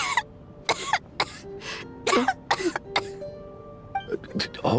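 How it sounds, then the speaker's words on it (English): A character in a Genshin Impact cutscene coughs several times in a harsh, hacking series of close bursts, followed by a brief voice near the end. "How long have you had that cough, Tonya?"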